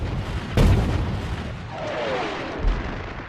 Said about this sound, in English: Montgomery launches his offensive with a preliminary artillery barrage